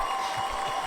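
A crowd cheering sound effect played from a soundboard, a brief burst of clapping and crowd noise heard at steady loudness with no pause.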